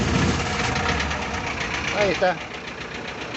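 A Bedford four-cylinder diesel engine cranks and catches, then runs with a steady, rough knocking idle. Someone speaks briefly over the engine noise.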